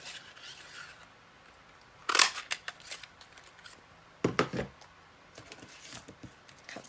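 Scissors snip through paper and cardstock during a Stampin' Up! Flourish Filigree papercraft project, with two close, crisp bursts of cutting a couple of seconds apart and quiet handling in between.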